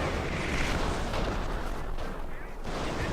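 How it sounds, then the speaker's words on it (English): Artillery fire in Company of Heroes, a dense, continuous barrage of booming impacts and rumbling blasts, loud and close, with some voices mixed in. "I'm taking major artillery fire"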